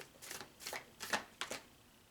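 A deck of Moon Oracle cards shuffled in four short, crisp riffles spaced about half a second apart, close and fairly soft, with no one speaking.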